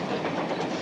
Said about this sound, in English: Betty Joe, I'll bet you're the only kid in the country that drives a train home from school